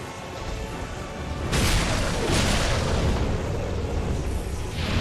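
In Dark Souls 2, a fire breath attack erupts as a broad roaring whoosh, swelling suddenly partway through and sustaining as a loud, rushing blast with no speech over it.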